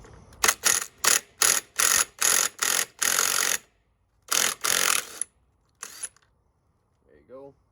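A pneumatic impact wrench hammers on a steel nut on a motorcycle clutch shaft during a Hinson clutch installation, several loud rapid bursts close up with short pauses, then a couple of shorter bursts before quiet.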